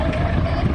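A vintage David Brown tractor engine drones steadily at a steam rally parade of old tractors, a loud, continuous low rumble with a little wind noise.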